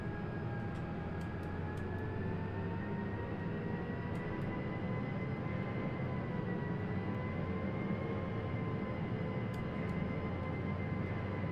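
Steady engine and wind roar of an Embraer E-Jet airliner landing in X-Plane 12 with flaps full, heard from the cockpit as a continuous moderate drone with a few faint clicks.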